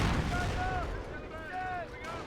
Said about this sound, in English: And that was a pretty good barrage there.